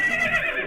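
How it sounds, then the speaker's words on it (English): A zombie horse in the video game Magic Farm 3 gives a short, loud, wavering whinny, heard alone and cut off quickly. "We've got a zombie horse over here now."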